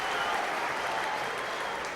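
Steady roar of a rugby match crowd cheering and applauding at a Gloucester versus Bath game, a dense continuous wash of noise from a large stadium audience.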